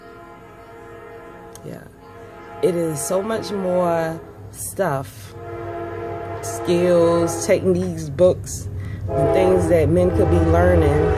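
A passing train sounds its horn in repeated long blasts with a low rumble beneath, loud and close, while someone talks over it.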